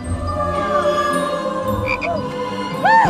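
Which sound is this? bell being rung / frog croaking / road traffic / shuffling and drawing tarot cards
frog croaking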